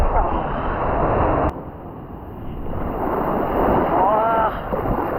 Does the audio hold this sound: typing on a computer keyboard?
no